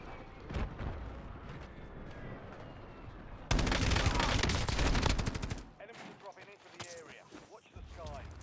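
Dense video-game gunfire erupts in a loud, rapid burst of automatic shots and blasts lasting a couple of seconds, framed by quieter scattered shots and background game noise, with a voice talking around it.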